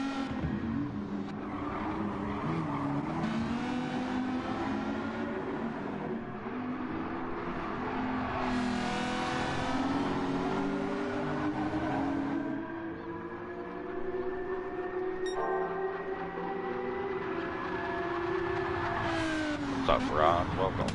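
Race cars from a racing video game, including naturally aspirated builds, drone with steady rising and falling engine pitch throughout, with shifts and revs layered together, while commentators talk over the noise.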